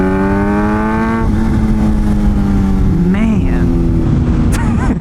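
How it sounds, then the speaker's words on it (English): Supercharged 200HP naked motorcycle engine: loud steady engine whine that shifts pitch as the quick shifter pops, with a brief warble and sharp crack near the end. "Like that crack, the quick shifter popping."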